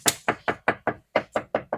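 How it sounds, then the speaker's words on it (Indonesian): A Daihatsu Terios car door is knocked on repeatedly with about nine sharp, evenly spaced taps, each giving off a hollow, tinny, can-like rattle, close and fairly loud with no voices. "Seperti suara kaleng yang bikin mengganggu pada saat tutup pintu itu, getarannya sangat berasa ya."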